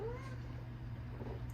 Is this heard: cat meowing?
yes